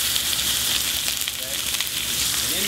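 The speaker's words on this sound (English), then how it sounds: "you're just going to put your fish right in there" Fish sizzles loudly in hot oil in a pan, a steady dense frying hiss with faint crackles throughout.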